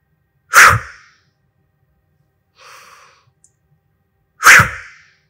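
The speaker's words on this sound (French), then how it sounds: "vous éjectez l'air d'un coup" Two forceful, close exhalations a few seconds apart in an abdominal breathing exercise, each a loud, sudden burst of air from the mouth, with a softer breathy sound between them in otherwise silent surroundings.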